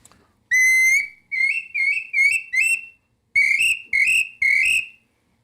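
A pre-Hispanic Mexican clay whistle with a long air duct plays a series of eight clean, piercing notes, each held briefly with slight pitch bends, in two groups separated by a short pause.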